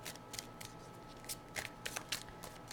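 Tarot cards are shuffled for a reading in a quiet room, giving a string of soft, irregular riffling bursts and papery flicks over a low, steady background hiss.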